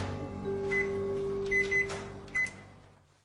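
Kitchen microwave oven heating a cup of water, a steady low hum with a few short high beeps and clicks, fading toward the end.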